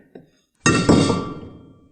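A single ice cube drops into a heavy rocks glass for an old-fashioned, giving a sharp close clink that rings and fades over about a second, with a faint tap just before.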